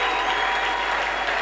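A church congregation applauds in a dense, sustained wave of clapping that fills the room at steady loudness with no pauses.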